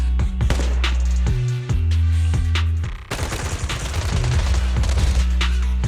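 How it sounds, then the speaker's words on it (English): Rapid bursts of gunfire ring out in the video game Zenless Zone Zero, dense, loud volleys of suppressive fire layered over a low droning music bed with a brief break midway. "Gunfire? This pattern. Suppressive marching fire."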